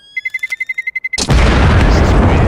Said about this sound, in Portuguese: Tá, isso explodiu, vambora.